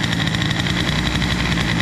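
A warming Airsal XT 77 moped engine, a boosted build, idles steadily and close up with a continuous, even putter and no voices over it.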